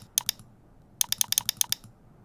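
Quick bursts of clicking keystrokes on a computer keyboard: a couple of taps, a pause, then a rapid run of about eight close, crisp keypresses over a low hum, with no talking.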